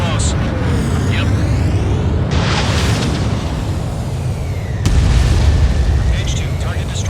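Explosion of a destroyed anti-air radar vehicle in the combat flight game Ace Combat 7, heavy booming blasts over a constant roaring jet-engine rumble, with a sharp louder burst near the end and radio voices talking.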